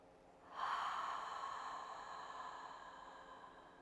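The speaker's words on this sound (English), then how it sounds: "Bow, chin to chest, cleansing breath." A long cleansing breath exhaled during a yoga session, a single breathy rush that swells abruptly, then fades slowly over several seconds, close and fairly soft, with no talking.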